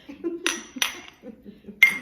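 Cups of Aztec hot chocolate clink together in a holiday toast, three quick, bright taps spaced over about two seconds, close and clear against a quiet room.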